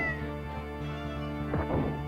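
A cat dash attack in the RPG Maker 1 game "Gobli" gives a short meow-like cry that rises over steady droning game music, fairly quiet.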